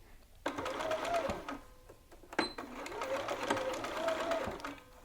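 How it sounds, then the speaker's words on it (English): Sewing machine stitching a fabric dart, two long runs of steady motor whir with rhythmic needle clatter, close and fairly loud, separated by a short pause for a back tack. "So now let's head over to the machine and I will sew this up"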